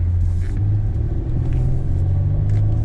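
A 2007 Honda Odyssey rolls over a bumpy road, giving a steady loud low rumble of road and engine noise inside the cabin, with faint knocks from the bumps.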